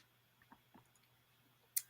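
A computer mouse clicking, a few faint soft clicks spaced apart and then one sharper click near the end, over a quiet low hum.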